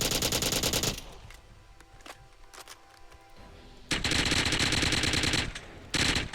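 JAK-12 automatic shotgun firing in Fallout 4, loud rapid bursts of gunfire separated by a quieter stretch of clicks and handling, then resuming in two more sustained volleys.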